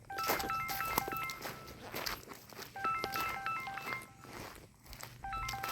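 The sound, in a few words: phone ringing with an incoming call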